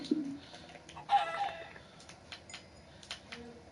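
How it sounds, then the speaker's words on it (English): A chicken in a video game clucks in short, close bursts, with a louder squawk near the start and scattered softer clucks after, over faint background ambience. "Need to get rid of that chicken"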